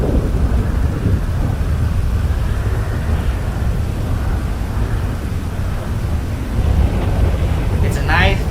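Thunderstorm in Grand Theft Auto V, a loud sustained rumble of thunder with heavy rain and wind that fills the scene throughout, with no other sound standing out.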